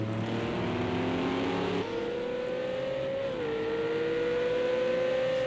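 A Bentley GT3 race car engine drones steadily in a wet sim race at the Le Mans Bugatti Circuit, holding a high whine that shifts pitch with each gear change over a constant road roar.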